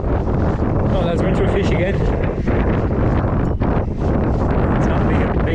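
Strong wind buffets the microphone on a lake during trout fishing from a boat, a steady loud rushing roar that persists under an angler's excited speech.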